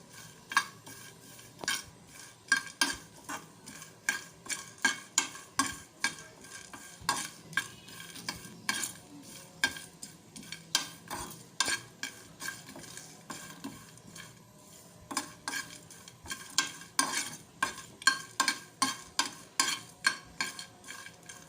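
Fennel seeds, cumin and star anise dry roasting in a pan for homemade nihari masala, with a steady dry rattle of spices and repeated scraping strokes of a spoon stirring against the metal, and no one speaking.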